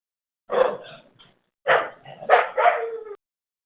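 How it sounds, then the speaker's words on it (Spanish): Little house dogs barking up close indoors, three or four sharp bursts with short gaps and no talk over them. "se soltaron los perritos acá en mi casa"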